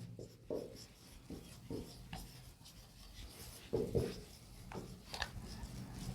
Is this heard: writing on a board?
yes